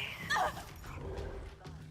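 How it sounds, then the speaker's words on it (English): A demonic dog in the video game Dishonored 2 growls and snarls, with a sharp, high yelp near the start, then rough, low rumbling close by amid game noise. "you're like a demonic evil dog"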